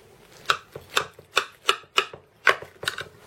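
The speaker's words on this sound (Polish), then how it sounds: "Kroimy na pół" A knife chops through a cheese-and-onion casserole made with leftover cold cuts, about eight crisp separate cuts in a fairly even rhythm, close and clear with no talking.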